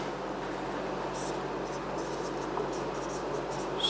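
A pen or pencil writes a single line by hand on paper in a casting and manufacturing class. Soft scratching strokes sit close and quiet over a faint background hum, with brief murmured speech.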